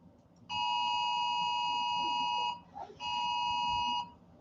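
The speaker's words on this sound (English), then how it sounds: "I'm getting an alert on my phone" A phone alert beeping: two sustained bright electronic tones, one lasting about two seconds and another about one second, split by a short gap with a faint rustle, heard alone and clear.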